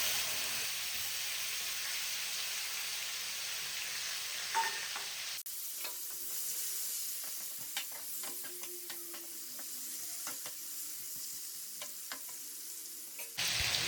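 Okra masala fries loudly in a pan, a dense close sizzle that drops and changes character partway through as tomato goes in, followed by steady crackling and stirring with no talk.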